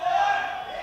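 Team Brazil supporters in a powerlifting championship crowd cheer and shout loudly and steadily for a lifter, a dense roar of voices holding through the moment.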